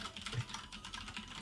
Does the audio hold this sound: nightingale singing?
no